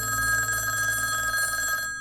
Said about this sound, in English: Jack Gillum and his wife arrived home to find the telephone ringing